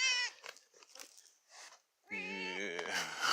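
Pet cat meowing indoors: a drawn-out, wavering meow rises clearly near the end after softer scattered sounds and brief faint noises, close to the listener.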